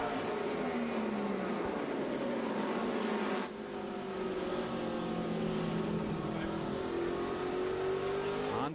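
A 2006 NASCAR Nextel Cup car at the Martinsville Subway 500 with something wrong under the hood, its engine droning steadily and loudly with a rising and falling pitch that dips once, heard under race commentary.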